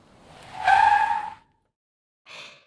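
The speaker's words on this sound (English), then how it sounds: "Watson stopped the car." A car skids to a halt, a short tire squeal with a rising whoosh lasting about a second, followed by silence and then a brief faint swish.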